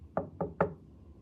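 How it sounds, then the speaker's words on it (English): Three quick knocks rap on wood, close and crisp, evenly spaced within about half a second and then silence. "Knock on wood."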